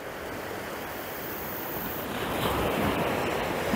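Wind gusting over the sea at Browns Bay, a broad steady rush mixed with surf that grows louder toward the end, close to the microphone with no voices.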